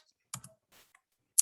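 A few sparse clicks of typing on a computer keyboard, close and crisp, separated by short silences, with no voices.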